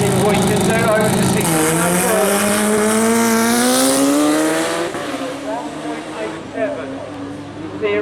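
Suzuki Hayabusa Turbo 1300cc motorcycle on a speed trial run at Brighton, its engine wailing loud and rising in pitch through the gears, then receding, with an announcer talking over it.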